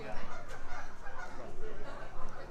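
Ducks quack and honk in short repeated calls in an outdoor area of Disneyland Resort, mixed with nearby voices of people talking.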